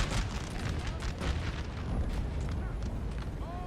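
Musket gunfire and cannon booms in the video game Napoleon: Total War, a dense, continuous rumble of battle volleys with overlapping shots throughout.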